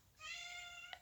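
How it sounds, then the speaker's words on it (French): A dominant house cat gives a single drawn-out, clear meow while bothering another cat, a black-faced Siamese. The meow is close and unaccompanied, ending in a brief click. "Elle a décidé à embêter mon autre chat."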